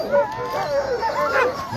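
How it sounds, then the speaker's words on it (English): A well-trained sled dog team from the Anchorage Eagle River area barks and yips excitedly at the start of the Copper Basin 300 race in Alaska, with a steady chorus of yelps under nearby talk. "Super well trained dog team out of the Anchorage Eagle River area"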